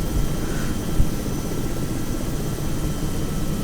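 A Robinson R66 turbine helicopter in the X-Plane flight simulator slows down to land on concrete, its steady turbine whine and rotor drone continuous and fairly loud, with no talking.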